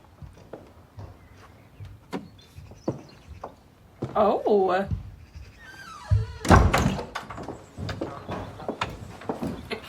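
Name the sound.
door being closed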